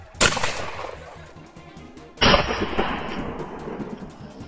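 Two loud gunshots crack out about two seconds apart during a wild boar hunt in Texas. Each sharp blast is followed by a rolling echo that fades across open country, with no voices heard.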